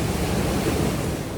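A roaring river beside an outdoor hot tub in Alaska gives a steady, dense rush of water noise, close and continuous, with no talk.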